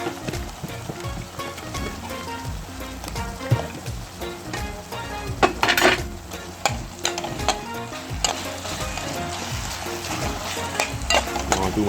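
Saltfish frying with sauce and vegetables in a little oil gives a loud, busy crackle and sizzle, broken by frequent scraping and clattering from stirring in the pan.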